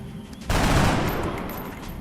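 A sudden burst of gunfire erupts in XCOM Long War as shots are fired at a Muton alien, loud and close, then decaying into a lingering rumble with no talking.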